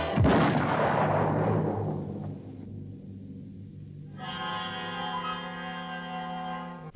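Cartoon landmines blow up in the 1956 Looney Tunes short Tree Cornered Tweety, a loud burst of stacked booms decaying into rumble, followed by a sustained bright ringing musical tone.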